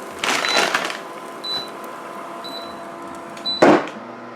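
Chefavor smart grill air fryer combo running while cooking: a low steady fan hum throughout, broken by a few short electronic beeps and some bursts of handling noise.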